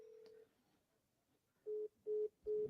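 A phone call rings out to a real estate seller, with a steady electronic tone and then three evenly spaced ringback beeps, clear and close over a quiet line.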